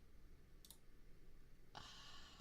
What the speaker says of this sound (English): my typing is actually so fast